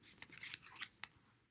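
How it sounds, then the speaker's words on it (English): Tarot cards shuffled by hand, giving a quick run of papery riffles and soft scrapes with brief pauses, close and fairly quiet, ending in a sharp tap. "give the cards a little bit of a shuffle"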